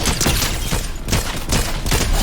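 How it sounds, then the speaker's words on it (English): Dense, loud video game gunfire, a rapid sustained fusillade of shots and booms filling the whole stretch with no pauses. "There's shooting going on in this direction."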